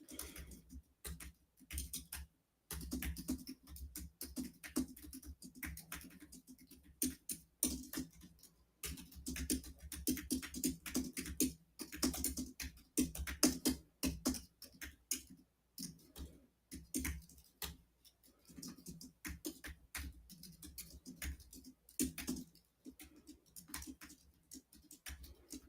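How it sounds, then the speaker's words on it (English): Continuous typing on a computer keyboard, close and busy, with dense irregular keystrokes running almost without pause for over twenty seconds and no speech. "I can't talk and type at the same time, you guys, so just bear with me."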